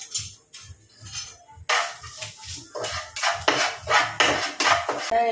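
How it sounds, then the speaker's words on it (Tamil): Egg fried rice stirred in a pan with a metal spatula, repeated clattering scrapes and clanks in an uneven rhythm, close and fairly loud, with no talking. "சரி, அடுத்து இப்போ நம்ம நல்லா கிண்டுவோம்."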